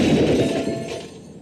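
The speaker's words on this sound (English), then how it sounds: "This is the sound of a brand new outdoor grill being hurled off a 20-story" A brand new outdoor grill thrown from a 20-story building lands in a loud crashing impact, a dense burst of shattering and clattering debris that rings out and fades over about a second.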